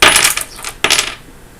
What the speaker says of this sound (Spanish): lanzó las 30 monedas de plata al suelo